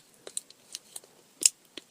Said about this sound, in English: You know the little clicker thing on the keys?